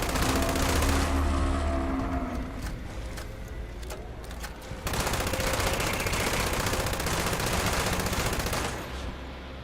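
Rapid automatic gunfire from the Fallout 76 video game, a stream of about 75 rounds fired within seconds, forms a loud, dense, continuous rattle that briefly dips midway and then resumes at full intensity.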